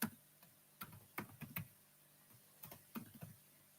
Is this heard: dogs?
no